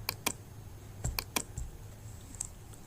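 A computer keyboard is typed on in a few sharp, separate key clicks, close and distinct against a quiet background.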